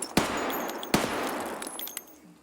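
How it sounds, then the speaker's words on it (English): Two sharp, loud single shots from a UMP submachine gun in Escape from Tarkov, spaced under a second apart and each followed by a ringing tail, then fainter clicks and handling noises. "These shots should be nice and accurate."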